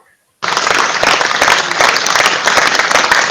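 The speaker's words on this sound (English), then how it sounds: "That deserves a round of applause" Sudden loud applause from an audience bursts in after a brief silence and carries on as dense, continuous clapping.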